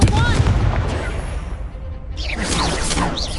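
A spell being cast in the PS5 game Hogwarts Legacy, loud bursts and whooshing blasts like gunfire over a rumbling low end, with a brief dip before a second flurry of crackling effects.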